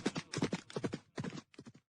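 Hooves of the horse Shubhrak pound in quick rhythmic clusters as he gallops with a prince through a crowd toward the gate of Mewar, close and clear with no voices.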